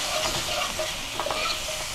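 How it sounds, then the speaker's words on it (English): Mirepoix of celery, onions and carrots with spices sauteing in a pan, a continuous close sizzle with scattered stirring scrapes and no talk. "So as we're sauteing our mirepoix here, celery, onions, and carrots"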